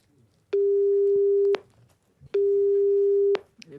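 A telephone rings on the line during a call, two long, steady, evenly spaced electronic tones, each about a second long with a pause between, clear and prominent.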